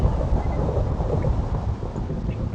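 Minecraft thunder rumbles as a loud, continuous low roar with a rain-like hiss, steady throughout with no talking over it.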